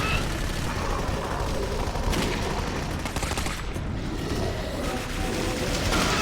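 Sniper rifle fire in the shooter game Clive Barker's Jericho, sounding as loud, dense gunfire and crashing noise that fills the whole stretch with no quiet gaps between shots.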